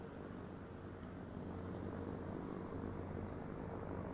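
Airplane in Microsoft Flight Simulator, a steady, quiet engine and propeller drone humming evenly throughout with no other sounds.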